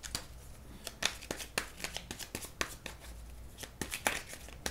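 Divination cards shuffled by hand for a reading, a rapid irregular series of crisp riffling snaps and slaps, close and fairly quiet, with no talking.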